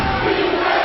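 A college basketball student section roars at a Georgia State versus UTA game, a dense, loud, steady wall of crowd cheering and yelling with no break.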